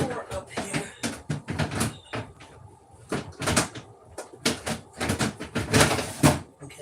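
A refrigerator drawer being pulled open and pushed shut during kitchen rearranging, with repeated plastic sliding scrapes, knocks and thuds close by, under intermittent talk.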